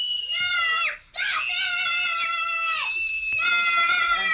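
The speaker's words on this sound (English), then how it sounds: "There's going to be a three-way screaming match" Three people on a film set screaming at each other at once, shrill overlapping high-pitched screams in sustained bursts with brief breaks, close and loud.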